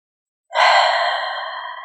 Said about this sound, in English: So one more deep breath.